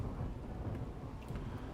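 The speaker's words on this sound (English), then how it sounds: "So now it is a rainy thunderstorm." A rainy thunderstorm in the video game RimWorld gives a steady, dense hiss of rain with a low rumble of thunder rolling underneath, even and continuous with no voices.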